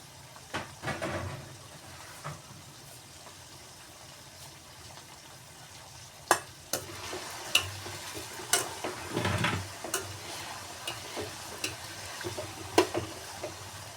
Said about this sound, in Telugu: తక్కువ ఫ్లేమ్లో పెట్టి వేయించాలి